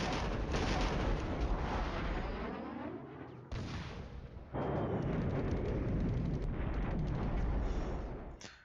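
Artillery fire in the Cold War wargame Flashpoint Campaigns: sustained loud rumbling barrages of shell impacts roar in long waves, broken by brief drops, with no talking heard.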